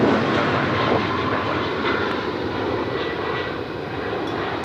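A jet landing on runway 34 left at Sydney Airport gives a loud, steady roar of engines close overhead, slowly easing in level with no voices.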